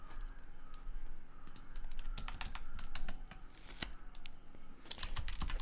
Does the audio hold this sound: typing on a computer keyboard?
yes